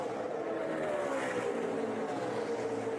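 A Monster Energy Toyota NASCAR race car on its final lap at Indianapolis roars steadily at high revs, a continuous engine drone with a slowly falling pitch as it passes.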